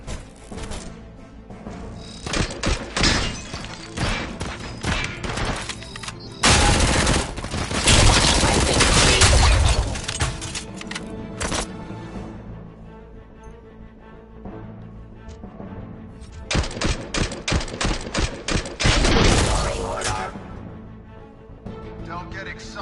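Dense bursts of automatic gunfire and rapid shots from the RoboCop: Rogue City video game, loud and sustained with brief lulls, interleaved with game effects and a voice speaking over the shooting.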